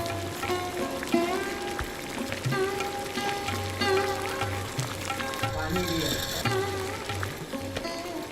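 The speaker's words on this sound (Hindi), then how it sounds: "इस घोल को उबाला जाता है।" Solution for Bidri metalwork, made with special soil from Bidar fort, boiling in a pot with a steady close sizzling, bubbling hiss that runs throughout, with music and a voice faintly underneath.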